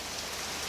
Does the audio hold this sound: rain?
yes